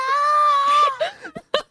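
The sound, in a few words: voice imitating a full-on soprano scream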